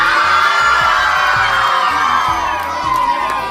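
A crowd of children at an annual school celebration shouts and cheers loudly together, a dense, sustained roar of young voices filling the hall without pause.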